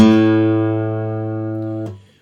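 Guitar low E string at the fifth fret and open A string struck together in unison, ringing as one sustained bright tone that slowly decays over about two seconds before being muted with a small click.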